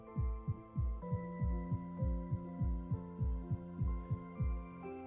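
Heartbeat sound effect from the game Love and Deepspace, a steady run of deep thumping beats, about two per second, loud and close over a sustained musical hum.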